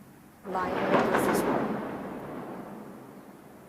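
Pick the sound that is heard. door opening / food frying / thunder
thunder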